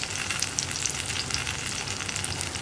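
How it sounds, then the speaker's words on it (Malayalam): Tamarind stirred into onions and curry leaves frying in a pan, a loud continuous sizzle with crackling spits and scraping stir strokes, close and alone without voices. "പുളിയും ചേർത്ത് ഒന്ന് ഇളക്കി പുളി ഒന്ന് കുക്കായി വരണം."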